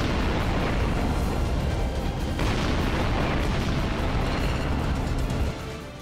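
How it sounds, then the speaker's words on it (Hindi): In the Russia-Ukraine war, tanks fire shells with heavy, dense booming and rumbling that stays loud and continuous, then eases at the very end. "टैंक से ताबड़तोड़ गोलाबारी"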